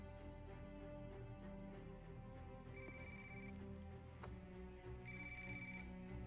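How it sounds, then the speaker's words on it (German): Telephone ringing in the video game Ghost Recon Wildlands, repeated electronic ring bursts over a steady dense game soundtrack, with no talk. "Sollten Sie nicht an Ihr Telefon gehen, Officer Bowman."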